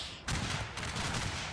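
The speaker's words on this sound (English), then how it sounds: "Oh, now they're stopping to fire actually." Massed musket volley from soldiers in a Mexico versus France battle in a Total War video game, a sudden crackling burst of many shots erupting at once, followed by a second wave of overlapping reports and rumbling continuous fire.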